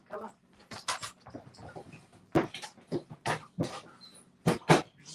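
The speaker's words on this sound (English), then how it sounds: "We're going to secure the puppies for right now so they don't jump around in their cages." Puppies in cages yip, whimper and bark in short, irregular bursts, close by and fairly loud, with quiet gaps between the cries.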